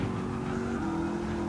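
A Ford Mustang race car in Gran Turismo 7 at Laguna Seca holds a steady, loud engine drone in third gear, a brief continuous tone with no talk over it.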